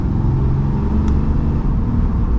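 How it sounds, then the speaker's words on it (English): A 2023 Ram 2500 Rebel heavy-duty diesel pickup with 850 lb-ft of torque pulling away under light acceleration, a loud, steady low engine drone heard from inside the cab. "we are setting off now in the Ram 2500, giving it a little bit of acceleration"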